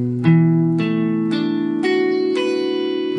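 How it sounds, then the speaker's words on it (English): Six guitar notes from a bar chord held at the seventh fret ring out one at a time, each a clean plucked attack that sustains and overlaps the next in a slow, steady sequence. "I want to see if you could sound all six notes one at a time"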